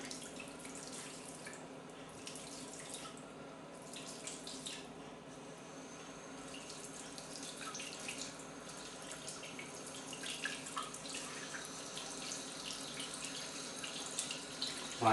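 A mixer tap runs in a steady, faint stream into a sink, with light splashing and dripping throughout.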